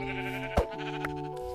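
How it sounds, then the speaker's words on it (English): A sheep in the video game Minecraft gives one short bleat over steady background game music, with another faint blip shortly after. "I thought I saw another sheep over here somewhere"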